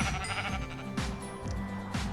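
Sheep in a video game give several quick, wavering bleats in a row, loud and close over a steady backdrop of game music and ambience.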